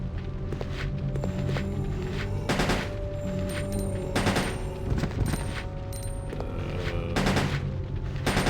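Gunfire in Resident Evil Code: Veronica X HD on PS5 cracks out in rapid bursts of sharp, loud shots with booming tails, repeating unevenly over a continuous background rumble.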